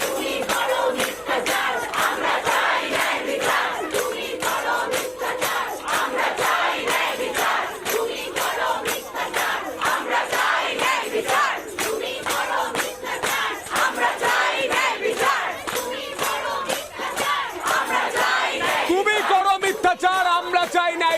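Crowd of protesting junior doctors and medical students chanting slogans in unison, a loud, dense wall of massed voices with rhythmic shouted bursts continuing throughout.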